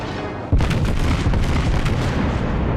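Battleship main guns firing in World of Warships, a loud boom at about half a second followed by a sustained heavy rumbling roar that stays dense and loud to the end.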